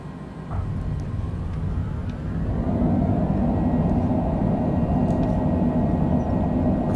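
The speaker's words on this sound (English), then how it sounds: "Reverse thrusters, spoilers deployed." A Longitude airliner landing at Galveston, Texas in a flight simulator game, with reverse thrust and spoilers deployed: a steady engine roar that swells louder after a couple of seconds and holds.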